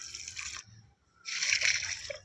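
Water poured onto a bitter gourd plant in two close, splashy bursts of trickling with a short pause between them, the second burst louder and steadier.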